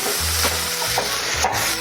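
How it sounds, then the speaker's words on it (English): Shrimp sautéing in a hot pan for queso, with a steady close sizzle and scraping stirring strokes of a utensil against the pan, no voices. "Just going to start lightly sauteing that."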